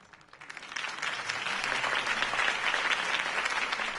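Loud, sustained applause from a large crowd in a Batman video game, swelling in over the first half second and holding steady as dense clapping.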